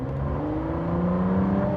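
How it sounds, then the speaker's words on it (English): A Ford Mustang GTD's turbocharged engine pulls under light throttle in normal mode, a loud, close, steady engine drone with rising tonal harmonics as the turbos spool up, with no voices. "there you felt the turbos spool up a little bit"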